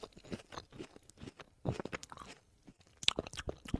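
Coconut chunks are chewed up close, giving quiet, irregular crunching bites and soft mouth sounds, with no talking.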